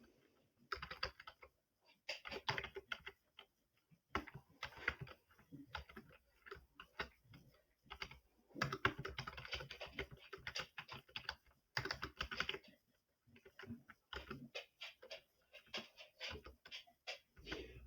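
Code is typed on a computer keyboard in bursts of quick, crisp key clicks, close and clear, broken by short pauses between phrases.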